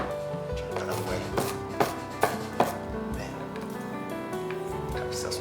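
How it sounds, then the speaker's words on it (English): A knife chops onion on a cutting board with a handful of sharp, close thuds, several landing in quick succession, under background music and a voice. "Cut yourself some chopped onion."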